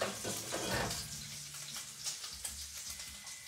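Bacon sizzles and spits in a pan that has not fully heated, a steady crackling hiss with occasional louder pops, close and without talking.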